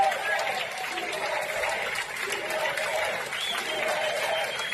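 A large crowd cheers, claps and chants "USA" together in a steady, dense roar of applause and voices that holds throughout at a moderate distance.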